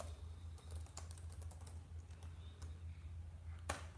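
Quiet typing on a computer keyboard, a run of light, irregular key taps over a steady low hum, with one sharper tap near the end.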